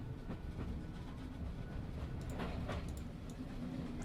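A train in The Room Three puzzle game rumbles steadily along with rhythmic clickety-clack of wheels on rails, a continuous low roar that fills the scene without pause.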